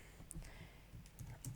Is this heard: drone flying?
no